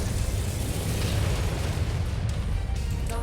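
Gauss rifle rounds slam into their target in MechWarrior 5, booming close and loud, with heavy, rumbling explosion-like impacts filling the whole stretch and no speech.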